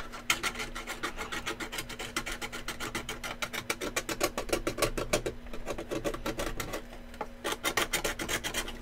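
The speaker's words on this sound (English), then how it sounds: "It's more of scraping back and forth like that" A file or scraper rasped back and forth over a plastic toy blaster during a build, a steady rapid train of close, gritty strokes with brief pauses, no voices.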